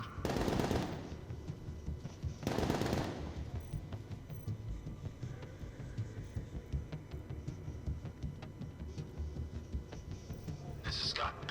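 Automatic gunfire in the video game Batman: Arkham Knight: two loud, close bursts early on, then a steady rumble of game noise with faint voices underneath.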